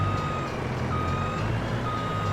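Reversing beeps sound steadily over a truck's engine hum as it backs a curtain-sider trailer up to a platform in Farming Simulator 22, with the repeating warning tone clear and close.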